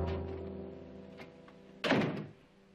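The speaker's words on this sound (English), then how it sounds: "Close the door." A door closing in a room in a classic Western TV drama, one solid close thunk after a quiet stretch, with faint room tone around it.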